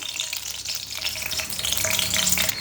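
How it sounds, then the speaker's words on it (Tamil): Cloves and cinnamon sizzle and crackle in hot oil in a home kitchen pan while a curry is being cooked, a dense continuous frying hiss with scattered pops and no talking. "இப்போ எண்ணெய் எங்களுக்கு கொதிச்சுட்டுது. கராம்பு கருவா போடுறேன்."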